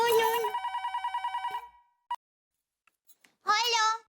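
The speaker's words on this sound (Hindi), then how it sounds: "किसको फोन कर रहे हैं? दया को, उसको बताना पड़ेगा" A telephone rings close by with a rapid pulsing electronic trill, then stops, followed by a few faint clicks and a brief voice at the end.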